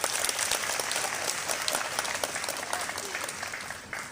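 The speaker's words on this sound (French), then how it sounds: "je vous demande humblement d'acclamer leur effort et leur" Sustained applause from a crowd at a union general assembly, dense and steady clapping filling the room for several seconds before tapering slightly at the end.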